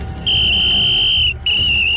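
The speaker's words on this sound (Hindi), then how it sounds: "उन ग्रामीणों ने सीटी बजानी शुरू की" Two long, steady high-pitched whistles blown by villagers, the first lasting about a second, then a brief gap before the second begins; piercing and loud, with no talking.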